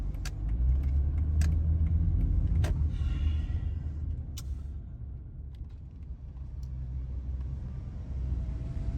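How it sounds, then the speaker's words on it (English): Cars roll into a full parking lot, their engines rumbling low and close, with faint clicks and light jingling on top. The sound eases off toward a quieter idle near the end. "Here comes every single car, go figure."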